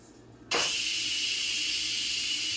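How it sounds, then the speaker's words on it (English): Hot steam bursts from a cooker's manual pressure release, a sudden loud, sustained hiss that starts abruptly after a quiet moment and keeps rushing evenly. "there's a lot of hot steam popping out of there"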